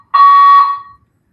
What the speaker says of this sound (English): still the fire alarm going